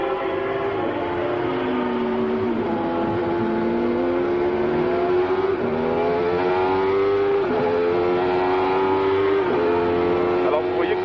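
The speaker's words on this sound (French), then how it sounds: "Là, on est en retour à l'intérieur de la voiture sur cette Benetton porteuse de caméra" A Benetton Formula 1 car at the 1990 San Marino Grand Prix, recorded onboard, screams at high revs as its engine pitch climbs and drops through repeated gear changes, while a commentator speaks over it.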